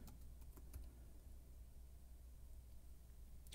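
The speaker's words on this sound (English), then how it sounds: "Oops, if I can type." Keys on a computer keyboard clatter in a short burst at the start and again near the end, separated by a steady low hum and hiss with no voices.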